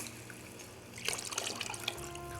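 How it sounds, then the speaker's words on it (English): Water poured into a pot of rice, a soft steady stream joining a faint background hiss about halfway through and running to the end, close by and fairly quiet, with no talking. "I will add 5 to 6 cups of water"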